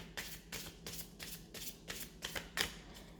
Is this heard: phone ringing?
no